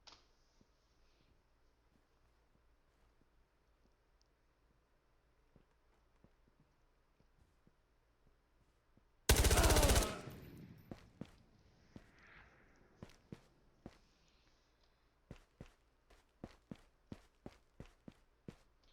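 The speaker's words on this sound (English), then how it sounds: "So I know I hear two sets of footsteps" Footsteps in the survival shooter Ghosts of Tabor: quiet ambient stretch, a sudden loud burst, then a run of distinct, evenly paced steps growing sharper toward the end, with no voices.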